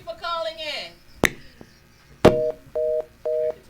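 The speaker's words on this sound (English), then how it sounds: "Hang up that phone." A telephone line gives three short, evenly spaced electronic beeps after a call is hung up. A voice and a couple of sharp knocks come just before.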